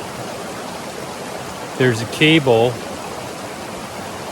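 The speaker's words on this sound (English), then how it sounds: "I am at a creek crossing and a road crossing right up here." Steady broadband rush of a creek flowing at a trail and road crossing on the Appalachian Trail, constant and close, with a brief spoken phrase over the water.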